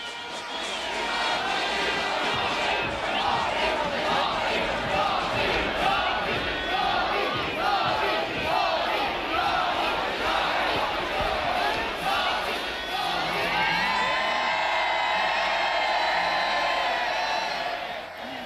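A large crowd of specially chosen youth members of a communist youth organisation chant and shout in unison at a torchlight parade, loud and continuous, the massed voices rising and swelling over time.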